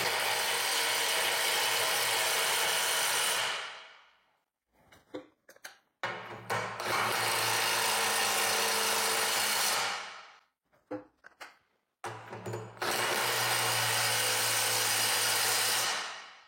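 A Milwaukee M12 FCIWF12G3 12V cordless impact wrench in mode 3 hammers on M22 bolts in three long loud bursts of rapid rattling impacts, separated by short pauses with clicks and handling.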